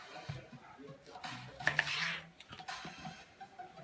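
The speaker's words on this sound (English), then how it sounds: "Here's how you fillet a plantain. Cut off the ends first." A knife cuts the ends off a plantain on a board in a kitchen, making a few soft, close taps and scrapes amid light clatter of utensils.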